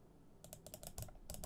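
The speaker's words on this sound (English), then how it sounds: "I'm clicking." Rapid computer mouse clicks, including middle-button presses, come in short bursts after a quiet start, fairly close and crisp with no talking.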